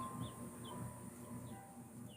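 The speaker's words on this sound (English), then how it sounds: "Tweety birds" Small birds chirp faintly in the background, a few brief high tweets spaced through a steady low hum of room noise, quiet and distant.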